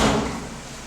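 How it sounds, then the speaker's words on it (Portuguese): A house's front door swings shut with a single soft, muffled thud up close, fading quickly into quiet room tone. "deixa eu fechar aqui a porta de casa"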